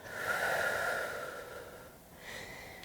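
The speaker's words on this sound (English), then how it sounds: "breathe in, and breathe out" A yoga practitioner breathes slowly and audibly through the nose, one long, soft exhale followed by a brief pause and the start of another breath, close and quiet with no talking.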